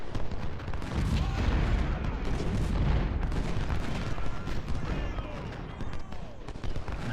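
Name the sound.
artillery salvo fired in Ultimate General: Civil War video game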